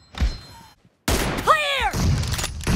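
Gunfire in the BGMI mobile battle royale game, a team deathmatch with an M24 sniper rifle: sharp bursts of shots and thuds, a short silent gap, then loud rapid firing with a rising whine-like tone, mixed with voice callouts.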